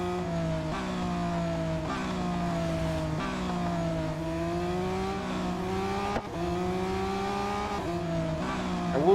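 A Lamborghini race car in Real Racing 3 revs and shifts through gears, its engine note climbing and dropping repeatedly in a steady, close, continuous drone with a brief tire squeal.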